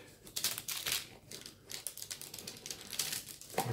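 Cutting the edges of Christmas-tree-shaped pastry with a knife, giving a series of close, irregular crisp crunching and crackling bursts, quiet but distinct, with no talking.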